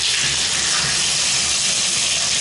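Shower water gushes steadily at strong pressure in a home bathroom, a dense, even hiss with no voices.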